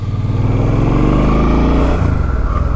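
A Suzuki M50 motorcycle engine, the same engine as the C50, runs loud and close with a steady throbbing hum, its pitch dipping slightly near the end with no talking.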